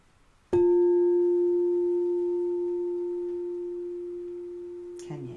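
A singing bowl struck once rings out with a clear, steady sustained tone and a faint higher overtone, slowly fading over several seconds before a brief rustle at the end.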